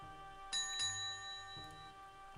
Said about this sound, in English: I just went to ring the bell.